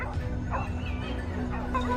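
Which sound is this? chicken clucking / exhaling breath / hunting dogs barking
hunting dogs barking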